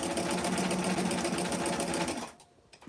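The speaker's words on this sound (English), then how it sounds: "So let me just sew this real quick" A sewing machine with a Microtex needle stitches a vintage 90s party dress, whirring loud, close and steady with a rapid rhythmic pulse before stopping abruptly near the end.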